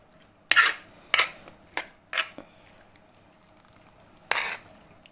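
Pasta stirred in a pot in a home kitchen: a handful of separate scraping, clattering strokes of a utensil against the metal, spaced irregularly over a few seconds, close and fairly loud with no talk.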